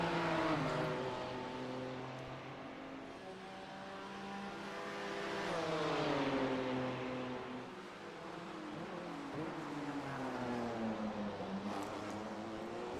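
BMW race cars battling at Sebring International Raceway in a sim racing game, engines revving and rising and falling in pitch through the gears as they run close together, loud and continuous, with no commentary.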